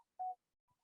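A phone being unlocked and muted gives off a single short clear key beep, followed by a fainter, briefer tone, all in near silence.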